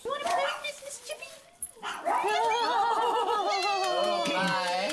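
Several dogs barking and yipping in an animal shelter, close and loud, with excited overlapping barks and whimpers continuing throughout alongside a voice.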